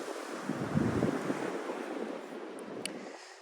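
Soft ocean waves wash against the shore, a low rumbling surge swelling early then settling into steady hiss, with some wind buffeting the microphone and no talking.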